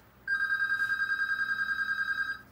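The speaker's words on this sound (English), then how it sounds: "We're going to ignore that phone call because it's probably my friend" A landline telephone rings in one continuous electronic trill that starts abruptly, holds steady and close for about two seconds, then cuts off, with no voices over it.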